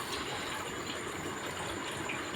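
Spinach being washed in a vessel of water, with a steady, even rush of running water throughout and no voices.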